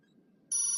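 A phone message notification tone sounds after a near-silent moment, starting abruptly as a bright, steady electronic chime that is clear and close, with no talking.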